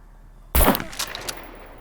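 A single loud shotgun blast in the survival game SCUM, an abrupt close boom with a crackling tail that fades quickly, alone with no talk.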